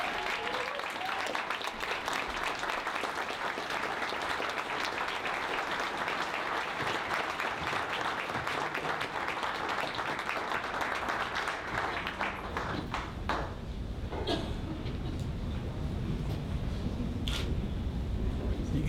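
An awards-banquet audience applauds a restaurateur-of-the-year winner with sustained, dense clapping for over twelve seconds, then the applause thins into scattered claps and a few louder isolated hits.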